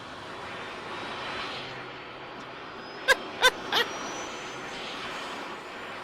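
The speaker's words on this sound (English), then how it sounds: "Oh, one of the Harriers made it off." A Harrier jet taking off from an aircraft carrier in Arma 3, a distant steady engine roar with three sharp, brief clanks or bangs close together partway through.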